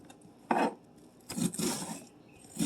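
A knife chops an onion into a small mince on a cutting board, a few close, crisp strikes spaced irregularly with brief scraping between them.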